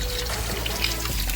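Water pours steadily into an aquarium tank, a continuous splashing gush with light bubbling and trickling, close by and without speech.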